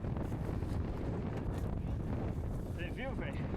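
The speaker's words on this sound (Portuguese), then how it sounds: "Nessa parte o vento estava tão forte que ele até me jogou para fora da trilha." Strong wind buffeting a microphone during a mountain bike race stage at Nova Lima, a constant rough rumble that stays loud throughout, with a brief whistle-like tone near the end.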